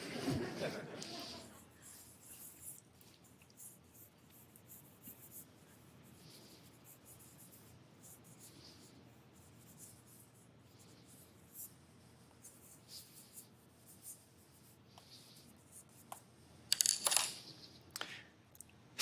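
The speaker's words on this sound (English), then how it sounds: "I'm just going to draw for a little bit" Soft scratching of a pencil or pen drawing on paper, faint and close, continuing intermittently with a few louder rustles and strokes near the end, no talking.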